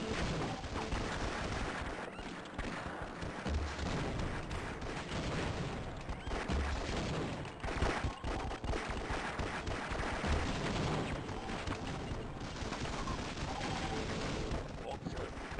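Heavy, continuous gunfire and booming shots from a Half-Life deathmatch game, loud and dense with overlapping weapon reports, with voices talking underneath.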